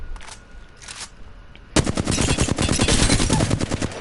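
Apex Legends gunfire, a weapon fitted with the anvil receiver: two short isolated bursts, then a sustained rapid volley of loud, sharp shots, with no talk.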